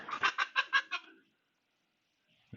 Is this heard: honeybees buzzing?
no